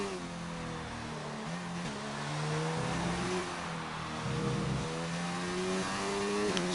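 A race car engine in an F1 racing video game revs hard and steadily, its pitch climbing and dropping through gear changes, loud and continuous with no talking.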